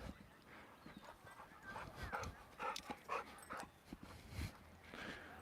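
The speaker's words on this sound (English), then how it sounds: "that's a nice doggy." A dog moving around close by, with soft whimpers, snuffles and paw or nail clicks on a hard floor amid light room noise, no clear talking.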